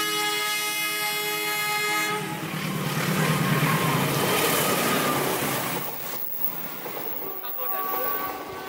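A train rolls past close by along railway tracks, a loud steady rumble and clatter with a long sustained horn tone at the start and screeching, ringing wheel tones later.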